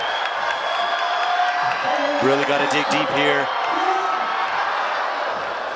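A crowd cheers and whoops at a World Cup bouldering final in Salt Lake City, a loud roar under a commentator talking, with shouts rising in the middle.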